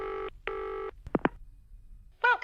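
A telephone keypad being dialed: two long steady tones, then a few short beeps, then a warbling electronic ring or chirp at the end, close and clean against a quiet background.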